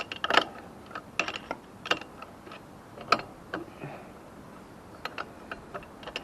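A wrench turns on a BMX pedal while it is being changed, making faint, scattered ratcheting clicks and small metallic ticks at an uneven rhythm against a quiet background.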